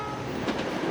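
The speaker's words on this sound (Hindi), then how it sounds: "वो रेल कितनी तेज थी, कितनी तेजी से निकल गई थी ना" A cartoon express train rushes past, a steady rumbling roar that swells midway with a brief bright whoosh before continuing.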